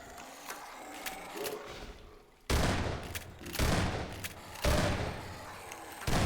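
Repeated loud gunfire bursts in the Half-Life 2 video game, heavy rapid shots in three dense volleys after a quieter stretch of background game noise.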